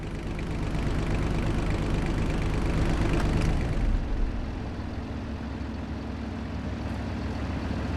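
A tractor engine in Farming Simulator 25 drones steadily at a low idle, loud and constant, then drops to a lighter, quieter hum about halfway through.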